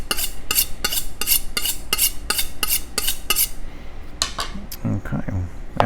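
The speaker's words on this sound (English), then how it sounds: "we cut it, we chop it" A sharp kitchen knife chops herbs on a cutting board in a steady run of crisp, close, evenly spaced taps that slow and stop, followed by a soft scrape and a few quiet clicks.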